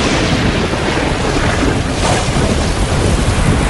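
Steady, loud rain pours down without a break, with deep thunder rumbling underneath throughout; no voices.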